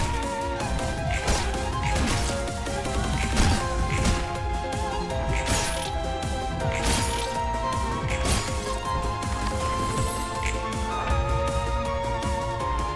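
A glass-breaking sound effect from the video game Library of Ruina, with repeated sharp shattering crashes over a dense, continuous musical and game backdrop.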